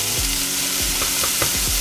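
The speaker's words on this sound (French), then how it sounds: "On fait revenir dans de l'huile d'olive" Minced beef from the butcher sautés in extra virgin olive oil in a pan, giving a loud, continuous sizzle with several short scraping stirs, close and without talk.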